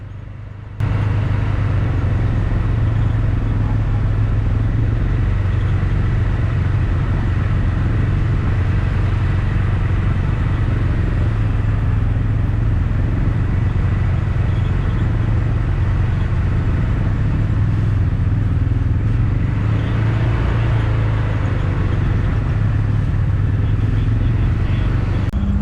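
A lineup of John Deere 4020 tractors rumbles past at a Half Century of Progress show, producing a steady, loud low-pitched diesel drone that runs on continuously with only slight swells.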